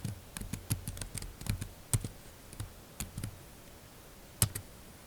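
Fingers tapping a computer keyboard while entering commands into Maple software, with light irregular clicks and a few sharper keystrokes at close range.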